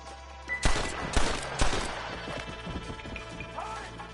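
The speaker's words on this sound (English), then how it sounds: "Gunfight!" Gunfire in a Red Dead Redemption gunfight: a few sharp, loud shots in quick succession near the start, then scattered fainter cracks and clatter over a low background, with no voices.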